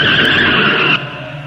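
A car skids to a stop on a horror audio story track, a loud sustained tire screech that holds steady for about a second, then drops off into a fading tail, with no voices.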